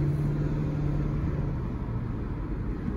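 A car rolls slowly through a new housing development, its engine a steady low rumble and road noise close and constant without pause, no voices present.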